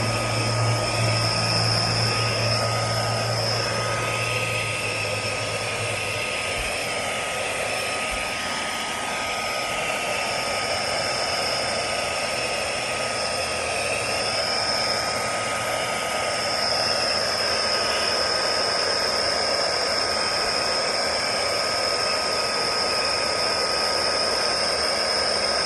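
A FIERCEVAC electric air duster on setting 3 blows leaves away with a loud, steady, high-pitched motor whine and rushing air for almost half a minute.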